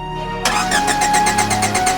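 A toy engine's starter cranks in a fast repeated rhythm without catching, loud and close, heard alone as a sound effect in a toy train story.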